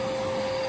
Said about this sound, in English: I can also use this kind of as like a vacuum after the fact to make sure there's not a ton of loose hair on her